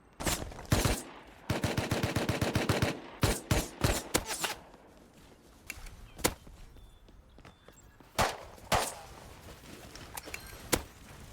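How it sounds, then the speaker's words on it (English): Video-game guns fire in sharp, loud bursts, including a rapid machine-gun volley, scattered single shots and clattering impacts between quieter stretches, with no talk. "It should be both guns that are doing it."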